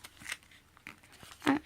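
Sheet of paper folded in half while making a paper airplane: a few short crinkling, creasing rustles close by, the last one sharp and the loudest.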